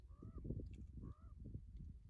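Two faint crow caws, evenly spaced about a second apart, heard over a low rumbling background.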